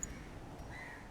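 A crow caws once in Darkest Dungeon, a short, thin, fairly quiet call over a faint game background.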